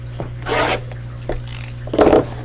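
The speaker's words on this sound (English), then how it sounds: "I'm going to cut that selvage off" Rotary cutter pulled along a ruler to trim the selvage off quilting fabric, making three short, close rasping strokes with quiet pauses between them.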